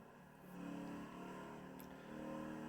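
A car engine in a video game revs and accelerates with a steady, droning mid-pitched tone that rises slightly, heard faintly and continuously.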